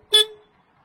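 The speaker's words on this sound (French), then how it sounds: "klaxon" The horn of an MCTT 2700-300 compact track loader gives one short, close beep, loud and alone, that fades quickly to silence.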